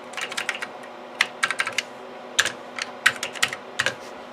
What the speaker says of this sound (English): So I type in the user ID and the password